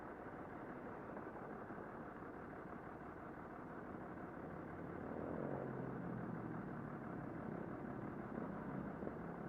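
A motorcycle pulls a wheelie on a city street in an entertainment district, its engine a steady mid-distance rumble that swells louder and rises in pitch partway through, among general street traffic with no talk.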